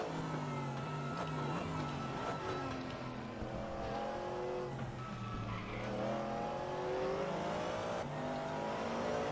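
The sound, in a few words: V8 American cars racing at Suzuka in a racing video game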